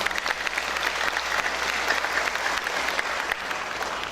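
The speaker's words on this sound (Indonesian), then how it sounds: "Tolong dikasih aplaus." Steady applause from an audience at an academic graduation ceremony in a hall, a dense, even clapping that holds at the same level throughout without a break.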